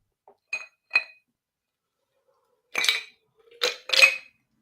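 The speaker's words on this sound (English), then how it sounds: "I'm sipping some water from my melted ice in that big glass that I stacked very high with ice" Ice cubes clinking against a big drinking glass of water, a few light knocks early on, then a pause, then three louder rattling clinks close up, with no talk.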